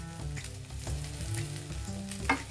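Polao spice mix is stirred into food frying in a pan, with a steady close sizzle under the scrape of a spoon working through the mixture.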